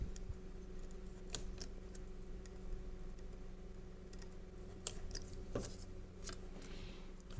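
Scissors or a hobby blade cut out the side parts of a MicronWings Mini Delta model aircraft, giving quiet scattered clicks and snips over a low steady background hum.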